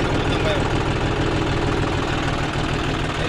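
A John Deere 5105 tractor engine idles close by with a loud, steady diesel rumble and knock, with voices talking over it.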